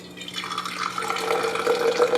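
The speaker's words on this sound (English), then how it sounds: "And then go ahead and pour out your coffee." Freshly brewed coffee pouring out of a small French press into a cup, a steady trickling stream that swells and splashes louder as the cup fills.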